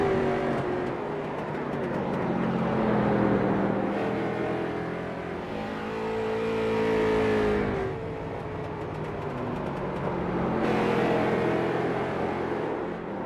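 A street stock race car laps South Boston Speedway in iRacing on a qualifying run, its engine rising and falling in repeated revving surges as it works through the corners, loud and continuous.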